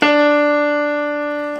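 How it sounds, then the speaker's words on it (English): A single sustained D note played on a keyboard sounds alone, clear and close, starting sharply and decaying slowly over under two seconds. "Here is the sound of the D in the keyboard."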